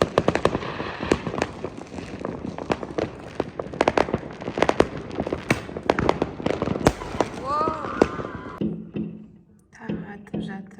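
New Year fireworks bursting in rapid, irregular crackling bangs, a dense barrage of sharp pops and booms that thins out near the end, with people talking underneath.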